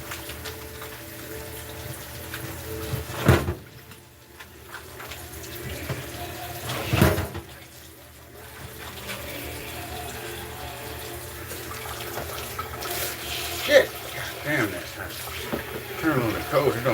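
Hot water runs steadily from a kitchen tap into a sink, a continuous splashing hiss with a couple of brief bumps, while a person talks over it.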